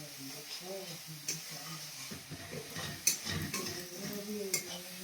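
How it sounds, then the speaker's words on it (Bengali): Spices fry in oil in a pan while being stirred, with soft scrapes and clinks of utensil on metal and a faint hiss, under a singing voice and some background talk. "মায়ের গান শুনতে শুনতে আমার মশলা কষা হয়ে যাচ্ছে"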